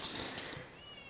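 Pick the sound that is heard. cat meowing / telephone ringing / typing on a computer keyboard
cat meowing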